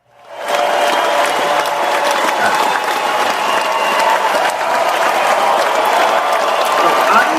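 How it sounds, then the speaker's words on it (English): A studio audience on a morning radio show breaks into sustained applause, the clapping swelling quickly and then holding steady and loud for several seconds with a light crowd murmur. "Can we get a round of applause for that?"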